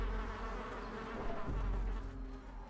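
Thronging insect hive in the video game Darkest Dungeon, a low, steady, droning buzz of many insects, faint and continuous with slight swells, no voices.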